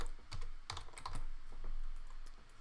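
Typing on a Windows keyboard hooked up to an Apple computer, with steady close-up clicks and clacks running throughout and no voice.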